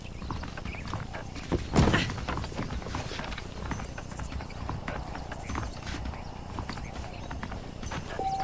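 Horse hooves clip-clop steadily in Red Dead Redemption, a rhythmic run of light close knocks over a constant outdoor backdrop, with one louder thump near the start and no talking.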